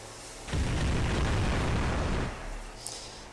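A Bubble Bombardment attack effect in Ninja Saga hits as one sudden, loud booming burst, roaring for close to two seconds before fading, then a small pop follows.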